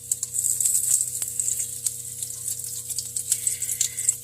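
Pre-cooked bacon fries in a pan with a bright, crackling sizzle, full of close, rapid spits and pops over a low steady hum.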